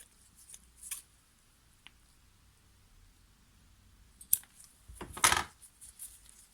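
A trimmer line being snipped at an angle with cutters while servicing a Honda UMK425E four-stroke trimmer: a few sparse, sharp clicks, then a louder crunchy cut near the end, close and otherwise quiet.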